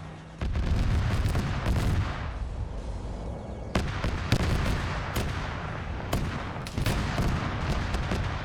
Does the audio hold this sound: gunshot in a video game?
yes